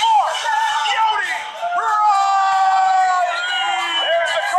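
A crowd at the Schmoedown awards cheers and whoops loudly, with high shouting voices rising and falling in a sustained, dense roar that dips briefly midway.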